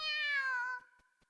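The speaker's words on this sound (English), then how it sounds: "The kitten meows back in Oi's stead" A kitten in a visual novel game gives one drawn-out, bright meow that slides slightly downward and then cuts off, followed by near silence with faint soft ticks.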